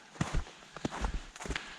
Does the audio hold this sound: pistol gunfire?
no